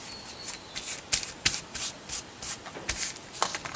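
Fabric being stretched and smoothed over a glued junk journal cover, giving soft repeated rubbing and brushing strokes with a few sharper taps, close and quiet.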